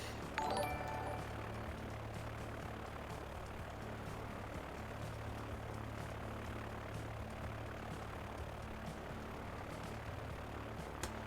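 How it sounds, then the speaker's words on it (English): A propeller airplane in the Transport Fever game drones past with a steady, moderately faint engine hum that holds evenly throughout, with a short tonal chirp at the start. "So have a look at this plane as it goes by."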